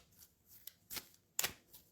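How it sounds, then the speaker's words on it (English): Oracle cards are shuffled by hand in quiet, giving a few soft, scattered riffles and sharp flicks, two of them louder snaps, with near silence between. "I'm silent generally while I'm shuffling"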